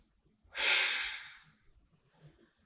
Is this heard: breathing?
yes